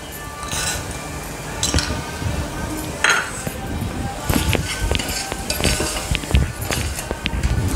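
A spoon clinks and scrapes against a cooking pan while peas masala is stirred, with irregular metallic taps and clatter under someone speaking.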